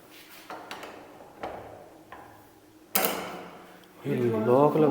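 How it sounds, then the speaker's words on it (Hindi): A door lock clicks and clunks shut in a few sharp mechanical knocks and a louder metallic snap, close by, followed by a voice speaking. "ये लॉक लगा।"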